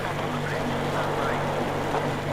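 Boat engine running steadily in the Metro Exodus video game, a continuous low droning hum with a faint tonal whine, loud and unbroken throughout.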